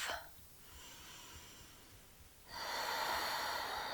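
Breathing during an intermediate yoga flow: a soft hissing inhale, a quiet pause, then a longer, louder airy exhale through the nose, close and alone.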